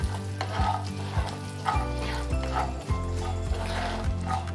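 Salt and deggi mirch chilli powder are stirred into hot oil in a pan for an instant green chilli pickle, a steady sizzle broken by repeated rhythmic scrapes and knocks of a spoon, close and fairly loud.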